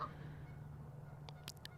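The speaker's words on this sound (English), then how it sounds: "The geese are fighting again, y'all." Geese fight and honk, with a few short, sharp honks coming in quick succession near the end over a low, steady background hum.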